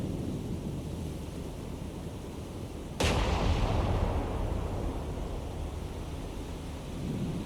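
A single heavy naval gun blast from a warship in the naval combat game War on the Sea, a sudden loud boom that rolls off into a long, fading rumble over low ocean ambience.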